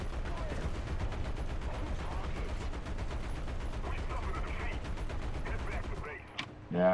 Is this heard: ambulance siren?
no